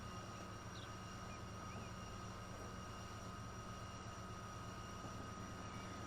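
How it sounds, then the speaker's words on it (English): Trains rolling past in the UK railway simulation Transport Fever 2, a steady broadband rumble and hum that holds for the whole stretch with no speech. "Here's another train. There's two trains actually."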